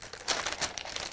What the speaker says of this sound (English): I'm just going to fold the sleeve pattern